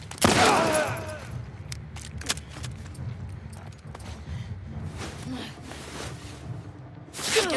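Gunfire in The Last of Us Part II: a loud, close blast opens, followed by scattered sharp cracks and clatter over a low rumbling game ambience, with another heavy shot bursting out at the very end.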